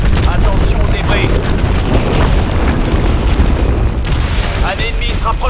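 Missile strikes exploding on a hydroelectric dam in Call of Duty: Advanced Warfare: heavy booming blasts and rumbling debris, loud and dense, with a voice talking over the battle noise.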